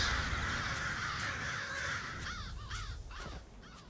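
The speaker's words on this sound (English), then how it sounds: "birds." Crows caw in the Elder Scrolls Online game world, a few sharp repeated calls arriving in the latter half over a steady ambient background hiss, fairly faint and with no one talking.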